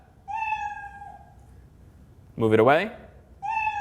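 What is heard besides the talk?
cat meow sound played when the cursor touches the Scratch cat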